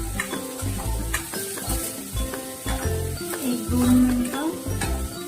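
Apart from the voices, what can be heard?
onions frying and stirred in oil on medium flame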